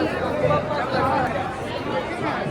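Dense crowd chatter at Baidyanath temple, a steady hubbub of many voices close around with no single voice standing out.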